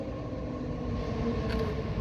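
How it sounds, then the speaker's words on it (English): A BART commuter train pulls into a station platform nearby, giving a steady low rumble and rolling hum with faint squealing near the end, constant and fairly loud without pauses. "the BART train is pulling up right behind me"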